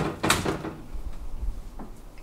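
Hotel room wardrobe double doors swing open, a quick close knock and rattle followed by a softer bump, heard up close and alone.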